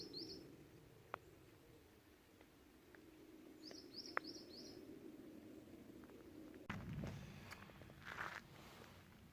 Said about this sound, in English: I think I got some birds in the bush there